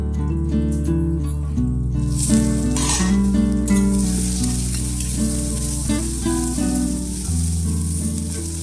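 Okra frying in a pan gives a steady close sizzle with occasional stirring, running under loud background music throughout.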